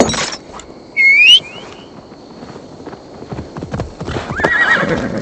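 A horse in Assassin's Creed Valhalla gives a sharp, high whinny near the start, with clip-clopping hooves and ambient game sounds, and a fainter second neigh later.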